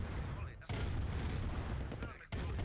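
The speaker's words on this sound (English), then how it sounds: "the first tank battle of the match commences" Dense, overlapping bursts of tank and infantry gunfire in Command & Conquer: Red Alert Remastered, four tanks against three plus soldiers, roar continuously, with one brief gap near the start and another near the end, under a commentator's voice.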